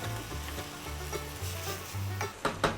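Ground meat for Texas chili sizzles in a pot, a steady close fry with soft scraping and a couple of sharp knocks as a utensil breaks the meat into chunks.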